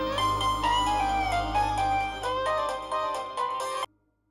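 A mobile phone ringtone plays as a bright melodic tune for nearly four seconds, close and clear, then cuts off abruptly into near silence.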